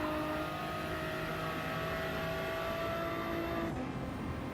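A small car's engine drones at steady revs in a racing video game, a sustained buzzing tone that shifts abruptly near the end, with no talk over it.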